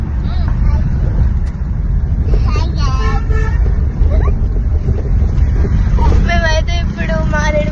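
A car engine drones steadily with heavy wind buffeting the microphone while a father drives on a road trip to Maredumilli, and a few horn-like tones are heard over the low rumble.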